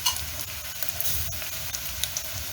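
Minced ginger and garlic fry in a hot pan while cooking Tanzanian mboga ya kunde, giving a steady, close, bright sizzle with small crackles and pops. There is no talking over it.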